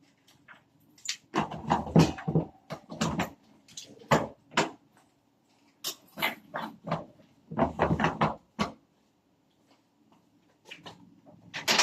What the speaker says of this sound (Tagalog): Lagay ko ito dito sa aking